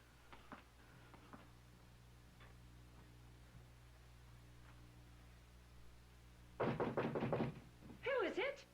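Short burst of firm raps on a door, several quick knocks close by in a quiet room with a low hum, followed immediately by someone speaking.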